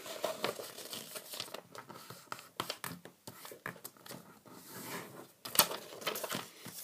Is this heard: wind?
no